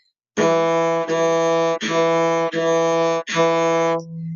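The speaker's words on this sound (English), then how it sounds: "The next note we're going to need is the note E." A cello plays five bowed notes at E on the D string in a steady sequence, each held roughly a second, warm and close with no voices.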